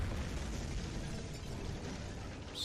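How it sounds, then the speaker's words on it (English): A heavy artillery shell blast from the World War II strategy game Order of Battle, a dense, sustained roaring rumble that fills the whole stretch at fairly low volume. "now you're gonna get hammered by the artillery"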